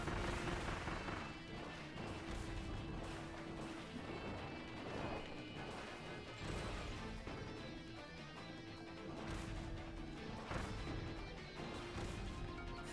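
Chained bombs burst in a Kirby game, a dense run of crashing, smashing blasts with sharp hits repeating over busy game music, loud and continuous throughout.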